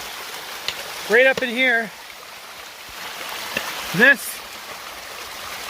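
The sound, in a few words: waterfall in a creek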